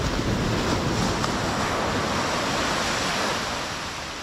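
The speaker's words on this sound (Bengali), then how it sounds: "খালি আওয়াজটা শোনো, জল একদম পায়ের কাছে এসে গেছে" Sea waves washing up on the beach at Dublagadi, a broad, steady roar of surf close by with wind buffeting the microphone, continuous and loud, slowly easing near the end, no voices.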